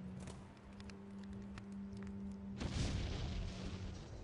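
A loud explosion bursts in partway through, a broad roaring blast that lingers, following a steady electronic hum and scattered clicks, in the video game Und Dann Gabs Keines Mehr.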